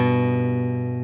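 Two guitar notes from a G chord ring together as one sustained, steady tone, clean and close, fading slightly over about a second.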